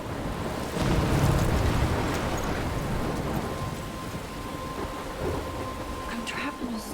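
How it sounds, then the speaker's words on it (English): Heavy rain and a rolling thunder rumble fill a stormy scene in the video game Life is Strange, with a steady broadband downpour and a low swell of thunder early on, constant and fairly loud throughout. "I'm trapped in a storm?"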